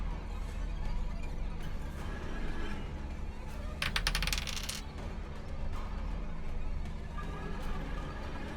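Several small dice clatter together in a quick rattling burst, rolled during a tabletop roleplaying game session, heard over steady room noise with a faint background hum.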